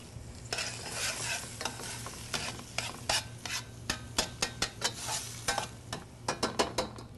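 Meat and vegetables browning in a pan, with a steady close sizzle broken by repeated sharp scraping and stirring strokes of a utensil against the pan, no talk.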